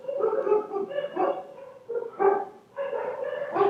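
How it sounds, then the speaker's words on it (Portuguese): Neighbourhood dogs barking, a run of repeated mid-pitched barks and yips in uneven bursts with short pauses, fairly close and clear, with no talking over them. "Desculpa os cães."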